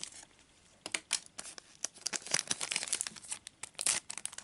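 Plastic packaging on a Pokemon Flipz display box is crinkled and torn open by hand, with close, irregular crackling bursts and rustles that grow busier toward the end.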